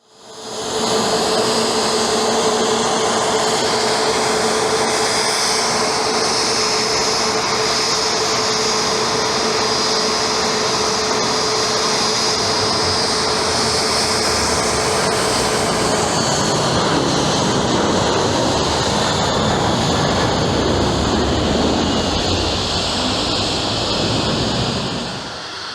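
Aircraft noise at Madeira airport, a steady loud broadband roar with a high whine held throughout, swelling and shifting in tone toward the end, with no talking.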